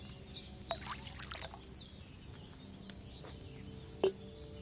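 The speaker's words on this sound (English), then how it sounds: "I poured wine in there." Wine poured into a cauldron in the video game Kingdom Come Deliverance 2, a soft continuous trickling liquid pour with a few faint bird calls and a brief clink near the end.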